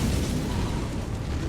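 An Elden Ring fire spell explodes in a loud, continuous roaring boom that fills the whole moment with dense rumbling.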